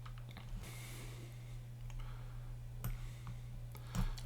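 Scattered computer mouse clicks sound sharp and close, a few isolated taps spread out over a faint steady hum.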